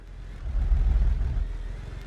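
Car engine idling roughly in the driving game BeamNG, a low uneven rumble that swells and falls with a lumpy pulse, close and steady for a couple of seconds.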